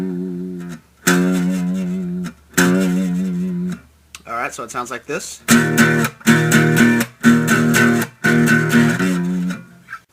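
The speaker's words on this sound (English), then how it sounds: "now we're going to go up to the 5th fret on the 6th string and just bend it up and down." Electric guitar repeatedly bending a note at the 5th fret of the low 6th string up and down, a series of loud, wavering sustained notes with short gaps, preceded by a brief spoken line.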